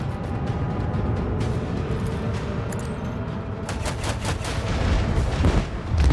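Ship guns and lance batteries fire in the Rogue Trader video game as dense, rumbling volleys of booming shots, a heavy barrage that keeps building and grows louder toward the end.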